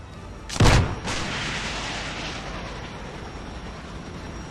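In the space combat game Nebulous: Fleet Command, a sharp missile launch blast is followed by a second boom and a long fading rumble, loud and with no talk.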